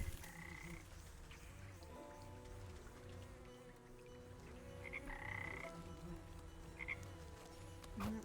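Frogs croak in the video game Wytchwood, repeated calls layered over a steady ambient game soundscape with faint dripping, continuous through the scene.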